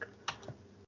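A few quiet keystrokes on a computer keyboard, including one sharper click and a softer tap, close and faint, with no talking.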